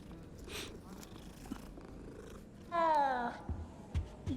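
A cat purrs in the video game Hogwarts Legacy with a soft, steady rumble, close and fairly quiet, while a voice briefly speaks over it partway through.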